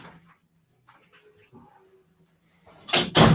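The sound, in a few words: dog in the studio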